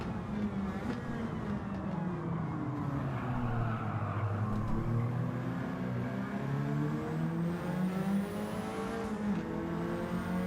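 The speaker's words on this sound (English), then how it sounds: "See the blue flames come out the exhaust as he changed gear." A race car in a racing video game holds a loud, continuous engine roar close up, its pitch sweeping up and down as it accelerates and shifts gears, with no talking.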